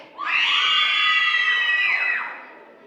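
Fourth grade children at a holiday Bible school opening rally let out one loud, sustained group scream, high-pitched and shrill, holding steady for about two seconds before trailing off together.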